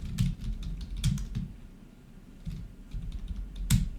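A file name is typed on a computer keyboard: scattered bursts of key clicks in short clusters with a brief pause midway, close and clear, with no speech.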